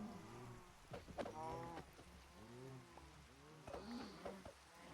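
Several cows in Minecraft give drawn-out, wavering moos while being killed, overlapping calls repeating over a few seconds against a soft hiss resembling rain, with faint talk underneath.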